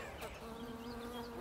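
Bees buzz around a dahlia flower in a garden, a soft steady drone heard close by over faint outdoor background.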